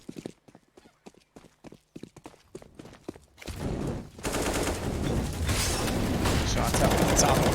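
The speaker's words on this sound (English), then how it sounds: "Shots up at the top of NaVi." Gunfire on the Inferno map in Counter-Strike: a run of sharp separate shots and clicks, then a dense, loud burst of continuous firing and noise filling the rest of the clip.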